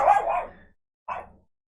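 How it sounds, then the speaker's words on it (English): A dog barks twice, a loud sharp bark followed after a short pause by a shorter second one, close by with no talk. "Dog's going a little crazy."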